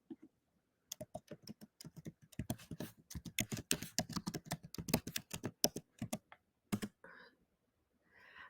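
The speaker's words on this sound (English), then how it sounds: "I'll just type that in." Rapid clattering keystrokes on a computer keyboard, bursts of quick taps with short pauses, close and clear, running several seconds with no voices.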